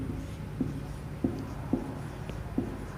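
Marker or chalk writes a number on a classroom board in a few short, separate scratchy strokes, close and fairly quiet over a low room hum.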